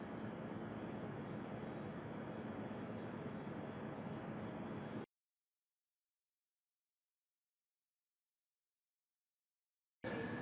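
A spin coater running while a polyester surface is coated, a steady whirring drone for about five seconds, then sudden silence, then the hum returning abruptly at the end.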